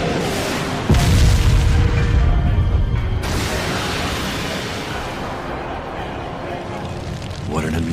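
Loud, sustained roaring blast of an anime fire style jutsu, a majestic hurricane fire technique, opening with a deep boom and swelling into a continuous whooshing rumble of flame that fills the whole clip.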